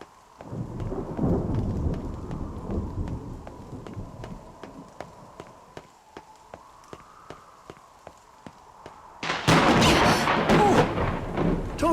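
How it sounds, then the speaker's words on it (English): Thunder and rain in the NieR Reincarnation video game, steady rainfall with a ticking rhythm, faint rumbles of thunder, then a sudden loud crash of thunder near the end. "We got thunder coming."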